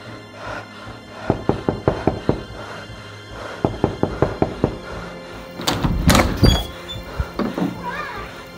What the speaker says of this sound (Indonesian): Maka diketuklah pintu itu.